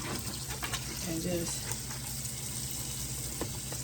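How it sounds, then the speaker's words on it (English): A kitchen faucet runs steadily into a sink, a continuous broadband wash of water with a brief voice speaking over it partway through. "turn on the water"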